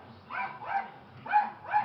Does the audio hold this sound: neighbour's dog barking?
yes